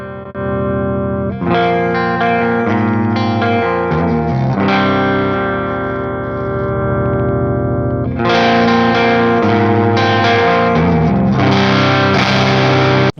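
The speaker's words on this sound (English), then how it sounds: "it is not the chimiest, most pristine, clean channel I have ever heard" Electric guitar played through a JOYO Firebrand BanTamp tube amp on its clean channel, sustained chords and picked notes with some grit and reverb, loud and continuous with a brief pause midway.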